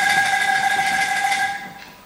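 An angklung, a tuned bamboo rattle instrument, sounds a single sustained G note at a contemporary angklung performance in Buenos Aires, ringing steadily and alone before fading out near the end.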